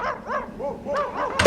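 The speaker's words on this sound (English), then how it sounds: "Seriously, Tom, sled dogs?" Sled dogs barking in a quick run of several close, loud barks, one after another, ending in a sharp louder burst.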